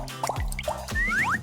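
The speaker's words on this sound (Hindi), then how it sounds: "मेरे टैप से पानी बह रहा है" Cartoon-style water drips from a leaking tap: a few close, bouncy plops and rising boing-like drip tones follow one another in an uneven rhythm, clear and fairly loud with nothing else around them.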